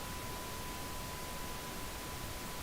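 Steady broadband pink noise test signal with a faint continuous 1 kHz tone underneath, filling the room evenly and loud throughout with no pauses or talk.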